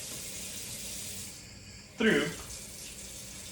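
Water from a faucet runs in a steady hiss, then gushes louder for a moment as a paper towel is passed under the stream. A voice speaks briefly over it.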